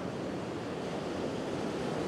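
Ocean waves wash in a steady, continuous broadband roar on a bright day, with a constant surf wash and no distinct breaks, heard alone without voices.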